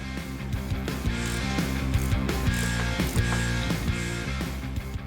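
Repeated ratcheting clicks come from a wrench backing a bolt out of an engine mount on a 1969 Dodge Charger. The clicks are close and fairly steady, set against a continuous hum and a tonal background.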